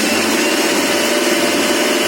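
A mixer grinder runs continuously while grinding spices into powder, producing a loud, dense, unbroken whir at steady intensity from start to finish, with no talking over it.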